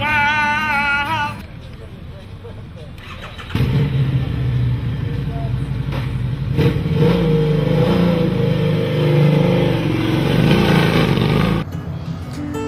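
A Travertson motorcycle engine revs with a loud, throaty roar that rises and falls in sustained pulls, close by, with rock music playing at the start and voices talking over parts of it.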